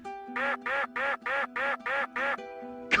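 A cartoonish duck quack repeated seven times in a steady, even rhythm over a low hum, triggered by a crouched duck walk in the PS5 video game The Last of Us Part 1, loud and close.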